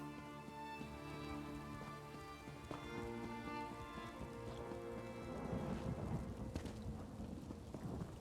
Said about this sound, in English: One thing I like about Natwood is the thunderstorms.